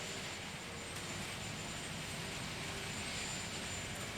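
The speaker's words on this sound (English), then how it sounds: "They'll be taking that Executive One U.S. Marine Corps helicopter" A U.S. Marine Corps Executive One helicopter carrying George and Barbara Bush, heard as a steady, broad rotor and engine roar that holds loud and unbroken throughout, with no voices.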